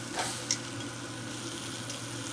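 A steak sears in a hot pan during a stovetop reverse sear, giving a steady, dense sizzle with a couple of quick pops and spits, close up and even throughout.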